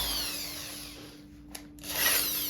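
A small drill bit bores into MDF, a steady whine that starts loud, dips as the bit bites in, then swells again near the end, with no talking.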